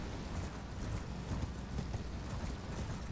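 A horse rides down a road in Elden Ring, its hooves making a steady, rapid clip-clop under a constant layer of ambient noise, moderately loud and even in rhythm.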